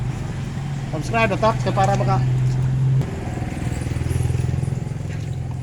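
An appliance unit starting up after cleaning and then running with a steady low hum and light rattle, close by, with someone talking over its first seconds.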